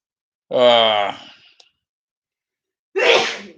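A single loud, close sneeze with a voiced wind-up, then silence and a second short breathy burst.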